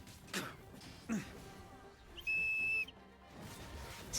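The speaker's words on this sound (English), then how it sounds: "Fucking whistle" A sharp, pure whistle blast in the Genshin Impact video game sounds once for about half a second, loud over faint game background noise and scattered sounds.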